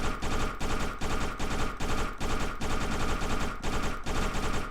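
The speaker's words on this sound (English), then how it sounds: "Now to go back to burst, I'm gonna spam the fire key." Rapid burst-fire gunshots from a Unity game as the fire key is spammed, loud repeated volleys in a tight, regular rhythm that nearly merge into continuous automatic fire, with no talk.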